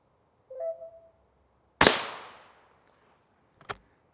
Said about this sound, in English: 5 to 6 shots of M193 and 5 to 6 shots of our M855